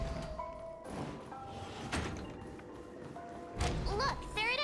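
A door slides open inside a Honkai Star Rail game scene, a couple of soft mechanical thuds and a sliding whoosh amid game music and tones, with a voice speaking over part of it.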